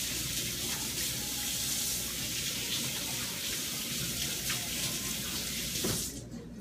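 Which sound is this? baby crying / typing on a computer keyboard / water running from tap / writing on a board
water running from tap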